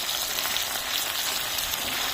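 Peppers simmer in a pan on a stove, giving a steady, close, bright sizzling hiss with fine crackle throughout and no pauses.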